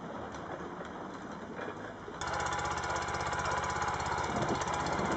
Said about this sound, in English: The wood collecting and transporting vehicle, which he fondly calls oxen, is 19 years old and equipped with a Vanguard engine from the Briggs & Stratton Corporation